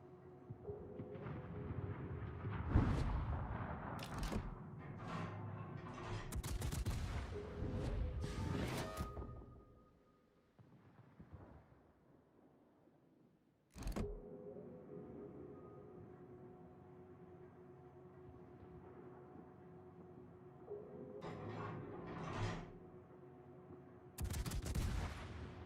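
Naval gunfire in World of Warships, with 8-inch guns booming in clustered, loud salvos, then a quieter stretch and sharp isolated blasts, all set against continuous game ambience.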